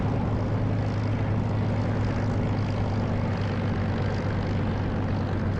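A Spitfire's propeller engine in the flight sim DCS drones steadily at takeoff power, a loud, even hum with no voices over it.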